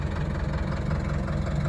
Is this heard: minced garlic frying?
no